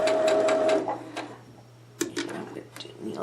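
A sewing machine runs in two short bursts of a few stitches each, with a quick mechanical chatter, a quiet pause between the bursts and a faint steady hum underneath.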